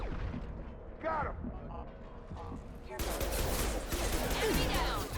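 Rapid gunfire and bursts of shots in a Mass Effect 2 firefight, scattered shots at first then a dense loud volley, with game voices calling out amid the shooting.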